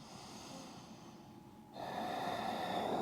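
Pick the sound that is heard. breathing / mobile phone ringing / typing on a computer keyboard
breathing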